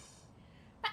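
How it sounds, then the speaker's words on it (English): A single short sneeze bursts out near the end of a competitive esports match broadcast, brief and fairly loud above a low steady background hum. "I feel like I'm gonna sneeze."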